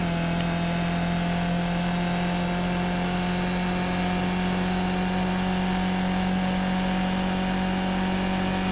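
Skip Barber race car on the Monza circuit in the iRacing simulator, its engine droning loud and steady, holding a high pitch throughout with no clear gear-change breaks.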